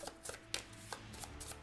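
Quiet riffling and flicking of a deck of Marvel Legendary game cards being shuffled by hand, a few soft, quick bursts of card noise close up.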